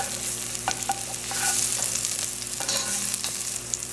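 Pimentos and garlic fry in olive and sesame oil in a pot, giving a continuous crackling sizzle with sharp pops and stirring scrapes, close and fairly loud, with no talking.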